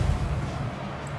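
Cannon fire in the fantasy battle game Total War: Warhammer 2, a heavy low rumbling boom that rolls on steadily and loud, with battlefield din and no clear separate shots.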